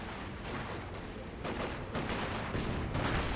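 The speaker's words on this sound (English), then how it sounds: "Panzerwerfer barrage. That seems like going to be a deadly barrage." A Panzerwerfer rocket barrage in the video game Company of Heroes 2, a continuous roar of overlapping booms and crackling explosions with no pauses.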